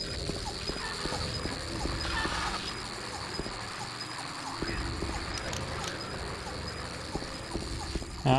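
A bug or insect in Silent Hill 2 makes a faint, persistent chirring buzz over a hollow ambient drone, with scattered clicks and taps from in-game footsteps.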